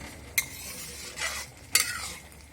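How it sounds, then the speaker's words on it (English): Spoon stirring paneer butter masala in a pan, several distinct scraping strokes against the metal over a low sizzle, close and fairly loud, with quiet moments between the sweeps and no voices. "We will mix"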